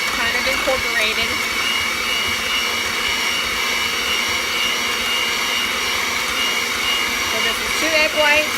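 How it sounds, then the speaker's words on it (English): An electric hand mixer whips egg whites and sugar in a bowl, a loud, steady whirring motor whine that holds constant throughout with faint scraping beaters. "I'm just gonna use my hand mixer"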